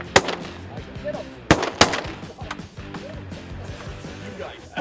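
Shotgun blasts ring out during a diving duck hunt: a few sharp, loud reports spaced unevenly over several seconds, with people talking and murmuring between the shots.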